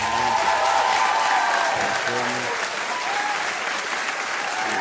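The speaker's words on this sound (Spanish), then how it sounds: "Un aplauso para Jesse el chef." Applause from a crowd, dense clapping lasting about five seconds with a few voices talking underneath, fairly close.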